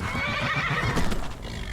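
A horse in Skyrim gives a clear whinny over the soft clip-clop of hooves, a short wavering neigh at moderate volume with no talking.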